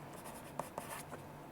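A pencil with a rubber on the back marking round numbers on paper, faint scratchy strokes with a couple of sharper taps, close and quiet.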